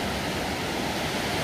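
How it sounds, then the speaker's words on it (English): Ocean waves break and wash steadily onto a beach, a continuous broadband roar with no distinct pauses and no voices. "have some soothing waves in the background."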